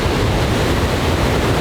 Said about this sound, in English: But the water keeps rushing over to the edge of the falls.